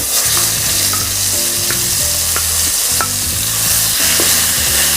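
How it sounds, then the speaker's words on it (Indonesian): Ground spice paste sizzles and fries loudly in a pan while being stirred for a tofu and tempeh filling, with steady crackle and scraping stirs throughout, no voices. "Saya masukkan atau tumis dulu bumbu yang sudah dihaluskan."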